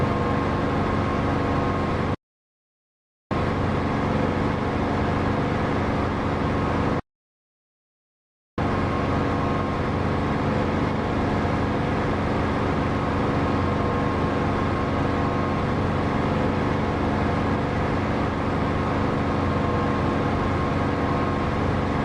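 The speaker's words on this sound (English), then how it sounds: "I've got to be careful not to blow the engine up before I actually get to him." Aircraft engine in the DCS flight simulator game, a steady loud broadband roar droning throughout, cut by two brief silent gaps early on.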